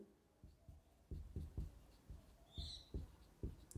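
Pen scratching out biology equations on a board or page, a series of short, quiet strokes in uneven rhythm with brief pauses between them, close and alone without any talk.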